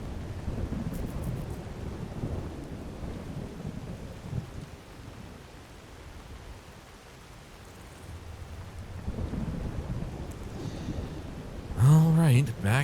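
Thunderstorm in the video game Skyrim, with steady rain and wind-like rumble rising and falling, and a low thunder roll swelling near the end before a brief burst of another tone.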